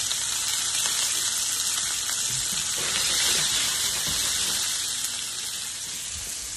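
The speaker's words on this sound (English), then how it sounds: "Let me throw my onions in too." Onions sizzling and frying in a pan of extra virgin olive oil, a steady, close, bright hiss that swells slightly midway and tapers off near the end, with no voices.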